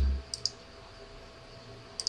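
Clicks on a computer mouse and Enter key, two quick pairs of sharp, close clicks near the start and again near the end, separated by quiet room hiss.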